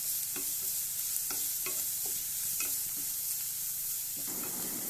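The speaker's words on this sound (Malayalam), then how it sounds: "ക്യാരറ്റും പച്ചമുളകും ചേർത്ത് നന്നായിട്ടൊന്ന് വഴറ്റിക്കെടുക്കാം." Carrots and green chillies sauté in a pan, a continuous soft sizzle with repeated light scrapes and clicks of a spoon stirring, close and steady without talk.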